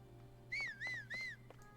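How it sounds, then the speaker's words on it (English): Link's three rising-and-falling whistle notes calling the horse Epona in Zelda: Tears of the Kingdom, clear and fairly close over a quiet game background hum. "I keep whistling for Epona."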